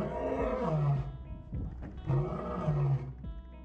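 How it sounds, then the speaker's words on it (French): A lion roars up close in deep, heavy, drawn-out bellows, two loud rasping calls separated by a short breathy pause. "Si vous avez la malchance d'entendre le rugissement d'un lion de près"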